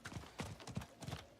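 Hooves of a spectral steed mount in Diablo 4 clip-clop in a steady rhythm of soft thuds, moderately close, with game ambience behind and no talking.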